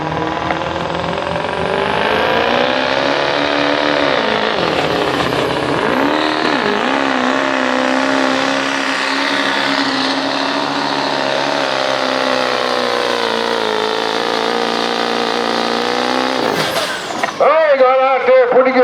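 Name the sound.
street diesel pickup truck pulling at a truck pull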